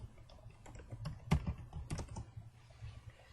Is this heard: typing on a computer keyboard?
yes